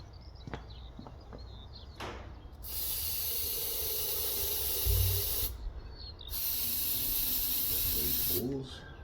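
CRC lubricant sprays from an aerosol can onto a 30-year-old engine being revived, in two long steady hissing bursts several seconds each, close and loud, with brief handling knocks before and after.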